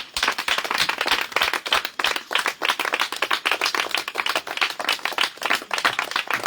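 A church congregation applauds to acclaim Jesus, with dense, rapid clapping from many hands in a large room, loud and sustained throughout with a brief dip near the two-second mark.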